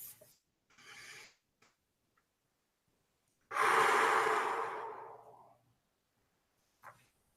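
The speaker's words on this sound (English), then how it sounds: "take a deep breath" A person takes a deep breath: a short inhale, then a long, loud exhale lasting about two seconds, close to the microphone, with softer breaths before and after and no talk.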